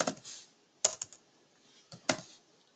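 Keystrokes on a computer keyboard while writing Java Hibernate code, heard as a few quick clusters of clicks separated by pauses, close and moderately quiet.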